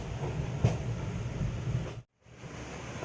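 Vananchal Express, an Indian Railways train, rumbles steadily into Sahibganj station with a continuous rolling roar and one brief louder clank, then cuts to a moment of near silence before the low rumble resumes.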